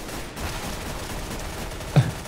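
AK rifle tap shots in CS:GO during a professional match between Ninjas in Pyjamas and PENTA Sports, with one sharp report standing out near the end over a steady, busy game background.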